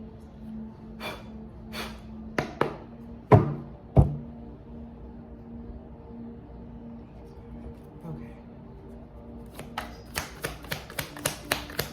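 A whole stack of tarot cards is handled and shuffled: a few sharp, scattered slaps and thuds, then a quick, rhythmic run of crisp card flicks near the end, with soft breathing in the quiet gaps.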